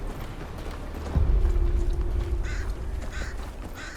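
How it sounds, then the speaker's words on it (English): Crows caw in a Game of Thrones video game, a few harsh repeated calls coming in over a low rumbling farmyard background with hoof-like clopping and a steady hum. "Damn crows hanging around my farm, that's what."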